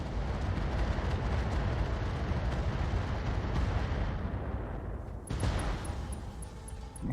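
Inferno weapons firing in the mech combat game Roguetech, a BattleTech mod, form a loud, dense, sustained roar of rumbling blasts that eases slightly before a sharp renewed burst near the end.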